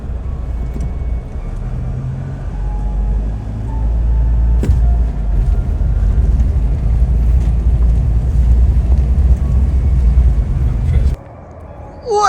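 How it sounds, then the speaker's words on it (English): A car driving over a bridge near Aux Sable Cemetery, heard from inside as a steady loud road rumble with wind noise and a sharp clunk partway, then cutting off near the end, with a voice talking. "You have to drive over this bridge."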